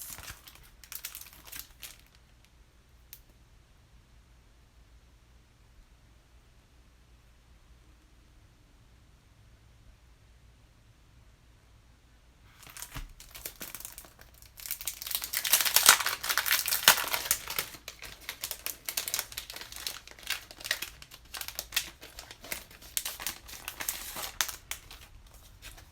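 Glossy planner sticker sheets crinkle and rustle close up, quiet at first and then a long stretch of loud crackling and handling noise as the sheets are flexed and peeled, with no talk.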